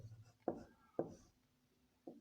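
A pen writing on paper during a maths lesson, heard as three faint, close, separate scratchy strokes spaced about half a second to a second apart in a quiet room.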